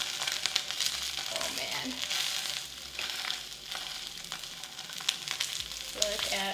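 Real Kobe beef sears in a hot pan at home, a steady loud sizzle and crackle of melting fat continuing throughout, with a brief spoken exclamation over it.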